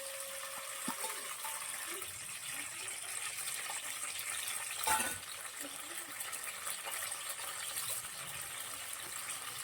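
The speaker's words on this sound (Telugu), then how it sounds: "ఆయిల్ అయితే మరిగిపోయింది కదండి, పచ్చిమిరపకాయలు కరివేపాకు అయితే వేసేస్తాను" Green chillies and curry leaves hit hot oil for a tuna fish curry, giving a steady, close broadband sizzle that runs throughout, with one brief louder burst of crackle near the middle.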